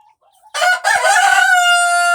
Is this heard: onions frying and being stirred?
no